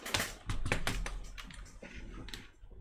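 Typing on a computer keyboard while using an Amiga produces a quick run of close, clicky keystrokes in an uneven rhythm, fading toward the end, with no voices.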